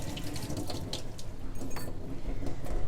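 Water running from a sink tap while washing up, a steady splashing rush with small clinks, close and continuous.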